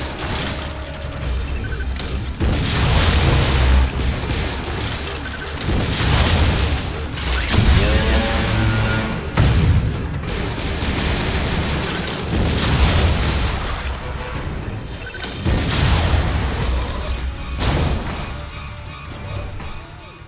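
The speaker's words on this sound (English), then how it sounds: "I'm authorizing missile use!" Missile fire and heavy explosions in the Metroid: Other M video game, a dense run of booming blasts and crashing impacts that fills the whole stretch loudly, with brief dips between bursts.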